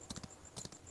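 Horse hooves clip-clopping in the mobile battle royale game BGMI, a short run of quick paired beats, soft and moderately near, with nobody speaking.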